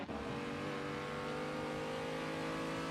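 BMW touring race car engine heard onboard at Bikernieki, a loud sustained high-revving drone that holds steady and slightly climbs.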